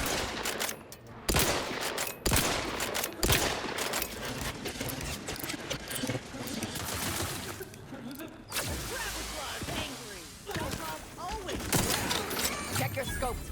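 Bursts of rapid gunfire in The Outer Worlds 2, sharp repeated shots and volleys spread across the stretch with mechanical clicks, under occasional talk.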